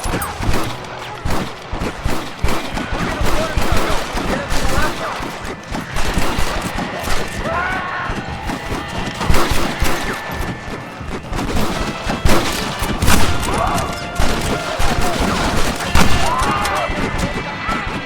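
Gunfire from a sniper rifle and other guns in the Red Dead Redemption video game, sharp repeated cracks and booms scattered through a busy battle mix, with people talking over it.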